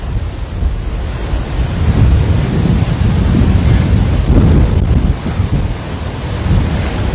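Wind-driven rain storm sweeping over Waikiki, Hawaii, a loud, steady broadband roar of gusts and downpour with low rumbling surges throughout, no voices.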